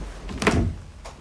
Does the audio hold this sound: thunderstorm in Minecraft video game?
no